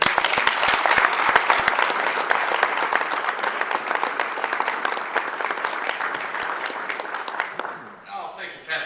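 Warm audience applause at a Spring Valley Rotary Club gathering welcomes a coach to the podium, a dense steady clapping that fades out near the end as someone begins speaking.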